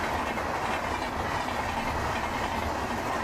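An Indian Railways superfast express from Gorakhpur, hauled by a WAP-7 electric locomotive, takes a curve at high speed: a loud, constant roar with steady wheel clatter throughout, close by and without voices.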